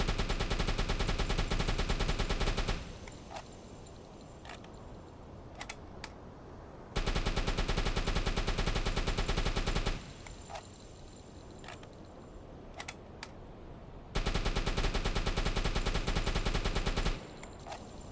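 A submarine's deck gun fires in the WW2 game UBOAT: three long bursts of rapid, loud shots, each lasting about three seconds, with quieter distant pops between them.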